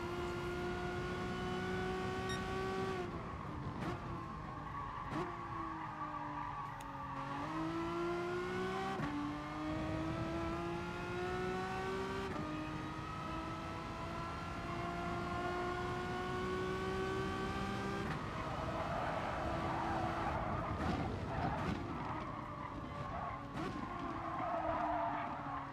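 Renault Megane race car in GT Sport, its engine droning steadily with rising and falling pitch through gear changes and corners, tires occasionally squealing, continuous and close throughout.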